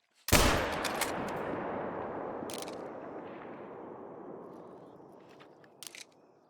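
One loud rifle shot in theHunter: Call of the Wild cracks sharply, then rolls into a long booming echo that fades over several seconds, with a couple of faint clicks near the end.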